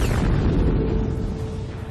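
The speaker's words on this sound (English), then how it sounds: "But it's a bad idea to be too close when a dying star explodes" Deep, roaring blast for a dying star's supernova, a heavy rumbling boom that starts loud and full then slowly thins and fades over two seconds, with no voice.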